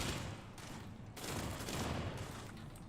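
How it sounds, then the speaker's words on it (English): Sustained rapid gunfire in the sci-fi game Starfield, a dense roaring fusillade with a brief dip before resuming, fairly quiet overall and without talking. "Somebody is shooting at me"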